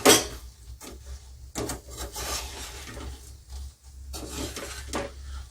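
Sugar syrup for petha is stirred in a pan with the gas switched off, producing irregular scraping and rubbing strokes with occasional sharper knocks of the spoon against the metal. The strokes are close and moderately loud, and no one speaks.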